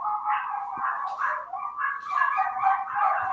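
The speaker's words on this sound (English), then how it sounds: "My wife just got home and my dogs are going bananas." Several excited household dogs bark and whine in a rapid, overlapping stream as the owner's wife arrives home, sounding somewhat muffled and at moderate distance.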